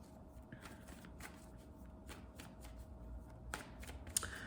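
Oracle cards being shuffled by hand for a closing card in a reading: soft, quiet riffles and brisk papery flicks in a steady rhythm, close and alone in a hushed room.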